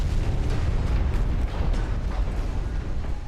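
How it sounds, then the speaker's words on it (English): A battleship sinking in a naval video game, heard as a continuous loud low rumble of explosions and breaking debris, dense and steady throughout with no talking. "Another battleship goes down, though."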